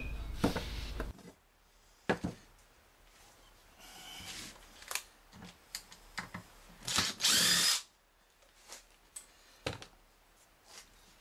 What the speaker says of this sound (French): j'utilise mon affleureuse avec une fraise de 8 mm, qui est montée sur un compas de fabrication artisanale